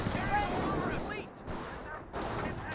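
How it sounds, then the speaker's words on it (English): In the Company of Heroes real-time strategy game, a lieutenant fires a Sten gun amid battle noise: rough gunfire rolls on continuously, with two brief dropouts, against a dense combat background. "Lieutenant is taking some pot shots of his sten"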